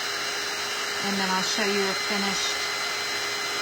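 A blow dryer runs steadily throughout, used to heat burn gel on a hat and wood craft project, a constant broadband whoosh with someone talking briefly over it in the middle.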